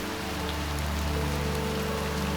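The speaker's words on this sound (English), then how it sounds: "surrounded by this gently falling but persistent rain" Gentle, persistent rain falls steadily on surrounding surfaces, a dense even patter that continues without a break in a still, quiet setting.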